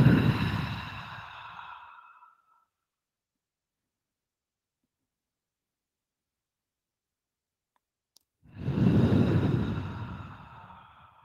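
During a slow flow yoga class, two long audible exhalations come close to the microphone, each a breathy rush that fades out. A stretch of near silence separates them.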